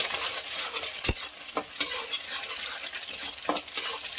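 Beans and carrots are stirred in a hot pan for fried rice: a constant close sizzle with a few distinct metal spatula clinks and scrapes scattered through it, and no talking.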